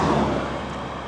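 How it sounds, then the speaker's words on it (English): Steady broadband roar of cars passing along an evening road near a lighthouse, loudest at the start and easing slightly as a vehicle moves away, with no voices. "people are driving fast here."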